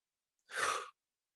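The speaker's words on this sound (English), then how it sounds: "start by breathing in through your nose and out through your mouth" A single soft breath out through the mouth, a brief airy exhale lasting under half a second and heard close in an otherwise silent space.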